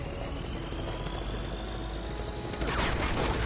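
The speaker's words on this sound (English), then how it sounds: "Who's even shooting me from over here? Oh, is it the tank that's shooting it?" In Uncharted 2, a tank fires on the player amid steady rumbling engine noise, followed by a sudden loud burst of rapid gunfire near the end.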